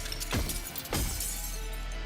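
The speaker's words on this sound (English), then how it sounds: "Hammering viciously swings at the crystal, blocking the path." A hammer smashes into a crystal in Goddess of Victory: NIKKE, two sharp shattering impacts in quick succession followed by a fading glassy scatter, fairly quiet.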